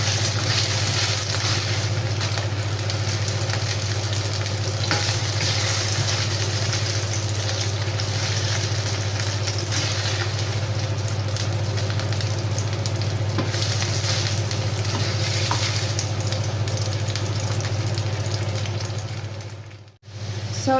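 Broccoli sautéing in a pan with onion, garlic and carrots for a pork and broccoli dish: a steady, close sizzle with a low hum underneath, running without a break before briefly cutting out near the end.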